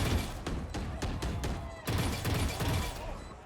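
Rapid gunfire in Valorant during a professional G2 vs Evil Geniuses VCT 2025 Americas match: a fast run of sharp shots, then a second burst after a brief gap, fairly loud and close.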